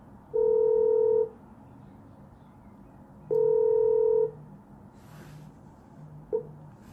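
An incoming call tone plays in the Samsung WE-VoIP iOS app. It is a steady electronic tone heard twice, each burst about a second long, with a brief blip near the end over quiet room noise.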